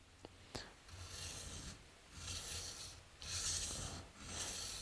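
Moulding plane blade rocked back and forth on a diamond sharpening stone, giving soft, faint rasping strokes that swell and fade in long passes, with a brief tap near the start.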